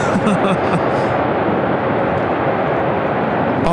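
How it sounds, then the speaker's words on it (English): An American Airlines Boeing 787-8 Dreamliner arriving from Tokyo Haneda roars in to land at LAX, a loud, continuous broadband jet rumble very close by that fills every moment. "This is American Airlines Flight 26 coming in from Tokyo, Haneda on the 787-8 Dreamliner"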